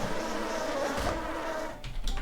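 Wasps buzzing in the Ashen Empires video game, a close, loud insect drone with wavering pitch that breaks into a rougher flutter near the end.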